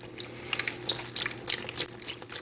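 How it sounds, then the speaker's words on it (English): Metal Rescue rust-remover liquid poured steadily over a rusty, gripless Ruger MK II pistol in a container, a continuous close splashing pour with small bubbling and trickling spatters. "So we're going to pour this stuff in, trying not to make a huge mess."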